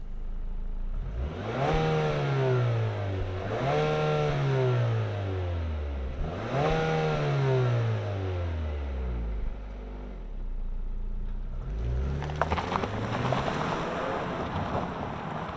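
A 2025 Nissan Murano, top Platinum trim midsize SUV, starts up and pulls away, its engine rising and falling through three loud rev sweeps before settling into a rougher rolling drone, heard close by with some wind noise.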